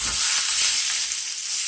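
Loud, steady sizzle of veal frying in a pan just after being flipped, a continuous bright hiss with no speech.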